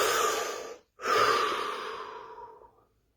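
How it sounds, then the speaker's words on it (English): A deep breath drawn in during a guided relaxation exercise, a long airy inhale followed after a brief pause by a slow, fading exhale, close and alone without talk. "Take a deep breath."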